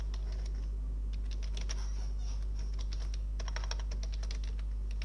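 Typing a git commit command on a computer keyboard: a steady run of close, crisp key clicks in uneven bursts over a low constant hum, with no talking.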